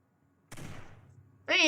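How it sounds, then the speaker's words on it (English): Gunfire from the Gummy Blast ability in a video game: a sharp burst with a rough, decaying crackle lasting about a second, followed by a loud tonal game sound cutting in at the end. "He pulls out a gun."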